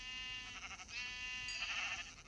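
Farm animals in Minecraft give a steady run of harmonic, bleating calls that carry on without a break, close and fairly loud, with no talk over them.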